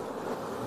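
Honey bees buzz thickly around honeycomb during honey extraction, a dense continuous hum from many insects close by.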